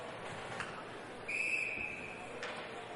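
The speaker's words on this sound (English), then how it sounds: "Not sure what the whistle is here, but it's going to be a face-off in the RPI zone." A referee's whistle cuts through a low crowd murmur at an ice hockey exhibition game, one clear shrill blast about half a second long heard at moderate distance in an echoing rink.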